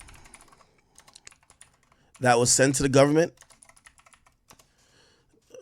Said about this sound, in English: I think I'm typing her name wrong.